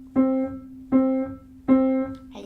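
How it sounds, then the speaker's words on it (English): Piano plays a single C as three evenly spaced quarter notes, each clear, close struck tone ringing and fading before the next, with no voices. "So if I want to play quarter note C, it will be like this."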